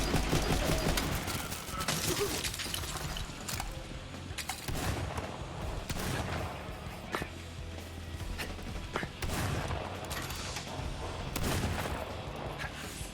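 Rapid shotgun blasts from the enemy Jabber in Borderlands 3, repeated sharp bursts at irregular intervals over a steady game backdrop of combat noise.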